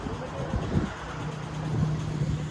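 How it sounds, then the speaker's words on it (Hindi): Cool wind blows across open farm fields, a steady breathy rush with low buffeting rumble against the microphone and a faint droning hum underneath. "अभी ठंडी ठंडी हवा चल रही है"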